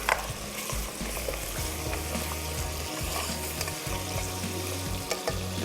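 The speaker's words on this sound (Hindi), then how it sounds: "इसको थोड़ा सा फ्राई करेंगे ताकि मसालों का जो फ्लेवर है वो अच्छे से जो है मटन के अंदर आ जाए" Mutton frying in a pan with bay leaf and spices, a steady close sizzle with stirring scrapes throughout, no voices.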